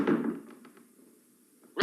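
Heavy pounding on a door in a radio drama: a dull thud opens, followed by a few soft, quick knocks in a quiet stretch, then a second loud impact at the end.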